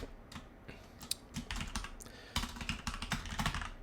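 Rapid, uneven keystrokes on a computer keyboard, clattering up close in steady bursts with brief pauses, no voices.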